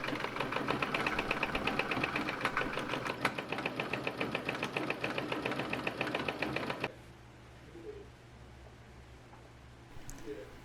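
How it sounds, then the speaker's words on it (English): A sewing machine runs steadily through a long basting stitch along the top edge of a skirt, a dense rapid mechanical whir for about seven seconds before it stops, leaving quiet room tone with a few faint handling sounds. "Now I'm going to run a long basting stitch along the top edge of my skirt"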